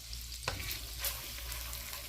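Garlic and pimentos fry gently in butter and oil over low heat, a soft continuous sizzle with a couple of brief stirring scrapes and no talking.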